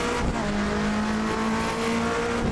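A race car in Assetto Corsa brakes hard with a steady high tire squeal riding over loud engine drone, sustained throughout and with no talking.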